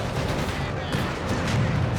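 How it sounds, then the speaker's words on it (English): Butterfly bombs exploding in Company of Heroes 3, a dense scatter of overlapping blasts and crackling bursts across two seconds, moderately loud and continuous. "We do get Devm here with the butterfly bombs"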